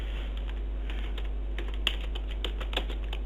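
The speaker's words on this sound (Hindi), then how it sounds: "ये कुछ टेक्स्ट मैंने यहाँ पे टाइप की है।" Keys clatter on a computer keyboard as text is typed, an uneven run of light clicks growing denser, close by over a steady low hum.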